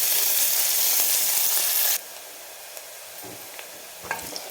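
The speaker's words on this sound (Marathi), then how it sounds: "हा एक मोठा कांदा आपण कापून घेतलेला आहे, तो आपण टाकू आणि चांगला एक 2 ते 3 मिनिट ह्याला परतून घेणार आहे." Chopped onion sizzles in hot oil for a spicy Maharashtrian mutton curry, a loud dense hiss that suddenly drops to a quieter steady crackle, with a few soft stirring clinks near the end.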